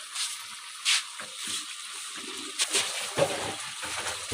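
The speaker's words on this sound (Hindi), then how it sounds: "और अब हम डालेंगे हरी मिर्चें" Green chillies dropped into a sizzling Charsi karahi after the tomatoes have cooked down: a close, continuous hiss and crackle of frying with soft stirring bursts, and no voices.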